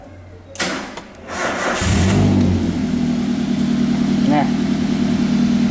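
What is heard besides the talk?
Toyota Avanza EFI engine starting and idling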